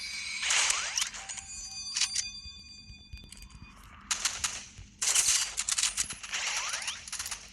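Sniper rifle fire in a video game cracks out in several sharp bursts separated by gaps, with metallic ringing tails and mechanical rattles between shots, fairly close and with no talking.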